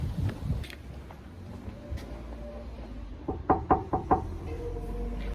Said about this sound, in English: knock some of these doors